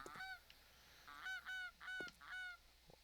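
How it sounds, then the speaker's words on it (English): Geese in the video game 7 Days to Die honk in a series of five or six nasal calls in quick succession, fairly clear against a quiet background. "Man, we got a lot of freaking geese kicking around"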